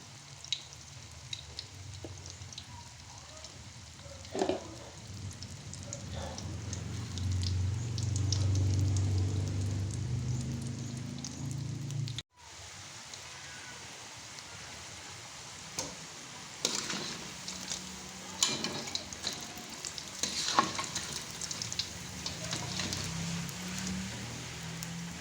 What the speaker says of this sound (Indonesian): celupkan sempol tahu ke dalam adonan telur, lalu goreng kembali hingga matang